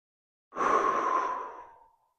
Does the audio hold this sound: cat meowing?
no